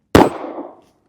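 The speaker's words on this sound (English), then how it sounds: "now let's get some velocities off this Hornady American Gunner XTP bullet" One loud report from a Smith & Wesson Bodyguard 2.0 .380 pocket pistol loaded with Hornady American Gunner 90 grain XTP rounds, an abrupt nearby bang trailing off into brief reverberation before silence.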